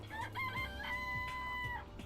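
Chickens in the Danganronpa video game cluck and crow loudly over a low, steady game background hum, with several overlapping calls in quick succession.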